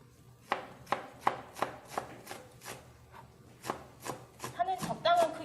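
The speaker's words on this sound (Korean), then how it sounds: "지금 파부터 예, 썰기 시작하시면 될 것 같아요" Green onion chopped with a knife on a cutting board in a kitchen: a steady series of crisp, close chops at an even rhythm, speeding into quicker cuts at the end.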